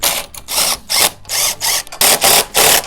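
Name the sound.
tightening bracket nuts with washers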